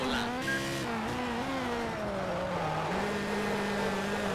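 Ferrari racing cars lapping a track in Test Drive: Ferrari Racing Legends, a steady high engine whine that shifts pitch through gear changes, loud and continuous with no talking.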